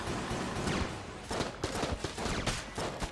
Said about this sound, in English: Not the most ammo efficient gun in the world if it takes 9 million shots to kill anything